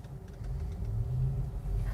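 Car engine idling right after start-up, a low steady rumble with a slight swell in the middle, close and unbroken for the whole moment with no voices.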